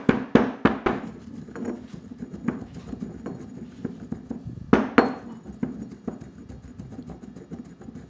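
Raw vegetables crushed in a stone mortar for chutney, heard as repeated hard knocks and grinding thuds of stone on stone, irregular and close, sometimes clustered, with quieter scraping between strikes and no talk.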